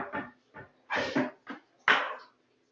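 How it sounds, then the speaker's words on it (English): Dogs entering an office, with a series of short bumps, clatters and scuffling noises near the microphone, irregular and moderately loud, separated by brief pauses. "I just had dogs break into my office"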